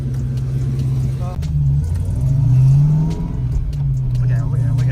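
A car called the Fox, its coilovers freshly adjusted, pulls away with a steady, loud engine drone whose pitch rises and falls gently as it accelerates, close by.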